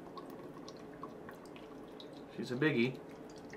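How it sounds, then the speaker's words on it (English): Paulaner Oktoberfest beer poured from a king can into a mug, a short, fairly close liquid gush and fizz that swells briefly near the end, with someone talking over it. "Pour it up. I don't like pouring from a can too much"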